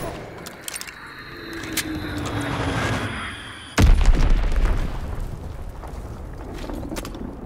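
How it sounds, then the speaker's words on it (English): In Call of Duty WWII team deathmatch on the Gibraltar map, an enemy bomb explodes with a single loud, deep boom that cuts through busy game noise of gunfire and clatter, then rumbles away. "Enemy bomb incoming."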